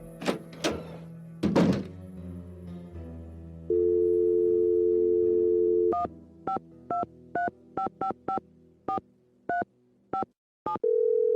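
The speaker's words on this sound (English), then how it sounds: "Go ahead and use the phone in the ticket booth." A steady telephone dial tone hums from a phone in a theater ticket booth in the Nancy Drew game The Final Scene. It follows a few dull thunks and gives way to a string of short keypad dialing beeps.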